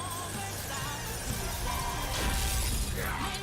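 Diamond Dust ice spell in Persona 5 Royal: dense, glittering crystalline shattering and crackling over a continuous musical backdrop, building to a fuller icy burst toward the end.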